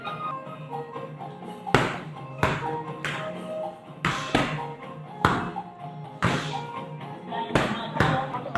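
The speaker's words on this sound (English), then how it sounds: "so now we're doing ball slams" A medicine ball slams repeatedly onto the floor during a one-arm Muay Thai strength workout, landing in about eight heavy thuds at an uneven rhythm of roughly one per second, close and loud.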